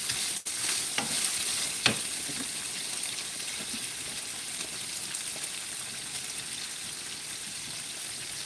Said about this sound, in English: We want this sausage to brown some.